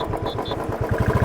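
A Royal Enfield Bullet Standard 350 BS4 motorcycle idles in neutral with a steady, close single-cylinder thump that grows slightly stronger toward the end.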